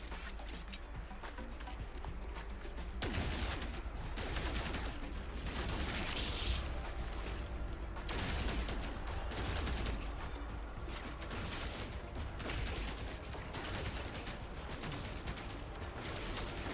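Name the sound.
gun firing, from video game No Man's Sky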